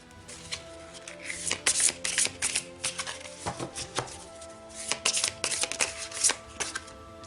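Tarot cards being shuffled by hand, a steady run of crisp riffling and slapping bursts close up, with no talking.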